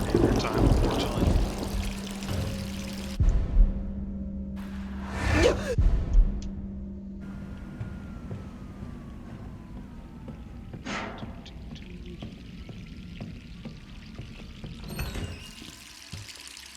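Water pours in the video game Resident Evil 3, a splashing, trickling flow that is strongest in the first seconds and then thins, alongside game sounds and brief whooshes.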